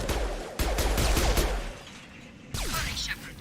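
Gunfire from a firefight in Mass Effect 2 inside loading docks, with a reprogrammed heavy mech attacking a squad: a dense burst of sharp, loud shots and impacts, a pause, then another volley with a sweeping whine.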